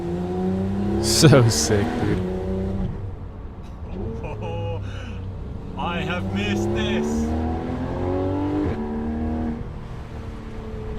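A Porsche GT4 RS sports car revving and accelerating on the move, engine pitch climbing through several gear pulls with shifts between them, heard from inside the car under excited talk from the occupants.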